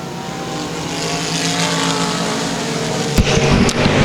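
Race cars roar around the Boothill Speedway dirt oval during an event, a loud continuous blend of engines droning at a distance, with a sharper burst of passing noise near the end.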